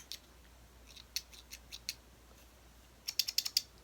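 A pair of snips handled close up, giving a series of small metallic clicks and snaps, scattered early and then a quick cluster of four or five sharp clicks near the end, quiet and with no talk.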